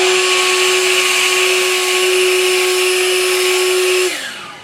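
A Vanpore 20V cordless leaf blower runs at full speed with a loud, steady whine and rushing air close by, then winds down sharply near the end.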